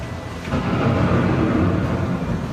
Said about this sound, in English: The approaching storm may seem violent and destructive to us, but to nature, it's a new beginning in the cycle of life.